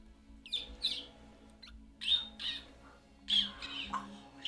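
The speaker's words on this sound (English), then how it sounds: "Sound of the bird. On this tiny little rock. Bird squawk." A bird gives several sharp, nasal squawks in short bursts spaced across a few seconds, close and clear over a quiet background.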